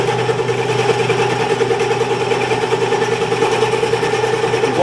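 A lathe runs steadily with a slight vibration, its spindle turning with some play in the shaft and cast headstock, producing a continuous close mechanical hum with a faint rattling texture throughout.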